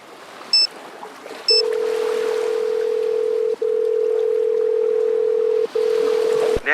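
A steady telephone tone on an outgoing call in Nancy Drew: Sea of Darkness, a flat continuous hum with two brief breaks, preceded by a couple of short beeps over faint ambient background.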